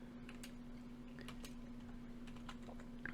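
Soft, quick taps on a computer keyboard as a command is typed, faint and close, over a steady low electrical hum and no speech.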